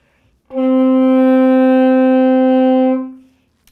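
A single sustained saxophone note A, steady and full for about two and a half seconds, then fading out cleanly.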